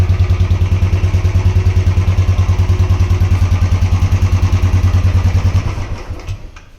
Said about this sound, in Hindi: देखा, फर्स्ट किक में स्टार्ट हो गया.